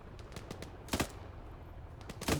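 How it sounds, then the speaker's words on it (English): Gunfire in a military video game: scattered sharp shots and short bursts, some distant and one or two louder and closer, over a low background rumble. "he was shooting at us, so I shot him"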